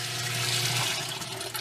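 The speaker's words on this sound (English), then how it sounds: "it's going back down through the hose that's fed to this wand, and that's how I'm watering with hydroponic nutrient" Pumped hydroponic nutrient water rushing through a hose and out of a watering wand in a greenhouse, a steady close hiss and gurgle of flow with no talking.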